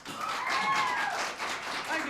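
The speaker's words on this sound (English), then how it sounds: "The crowd is roaring." Crowd applause at a bluegrass concert, a steady broad wash of clapping and cheering that holds for about two seconds, loud and continuous with a slight dip midway.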